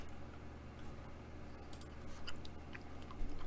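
Someone chews a Now and Later taffy candy close to the mic, giving soft, continuous wet mastication noises with scattered clicks and squishes. Faint background room sound sits underneath, and no one talks.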